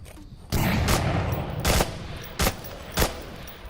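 Bursts of automatic gunfire in the VR shooter Onward, a long sustained volley followed by several shorter rapid bursts, loud and close with no talking.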